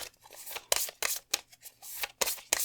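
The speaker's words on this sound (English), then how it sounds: "I'm going to shuffle between these four and see which two come out for you" Tarot cards being shuffled by hand in a quiet room, a series of crisp riffling and sliding bursts separated by brief pauses, close and fairly soft, with no one speaking.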